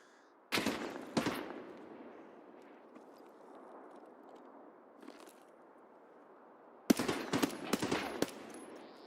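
Automatic gunfire in the video game Escape from Tarkov, PvE mode: a couple of sharp bursts early, a lone distant shot midway, then a rapid cluster of loud cracks near the end.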